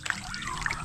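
Water trickles briefly out of a birds' water container as it drains, a short close splash-and-dribble.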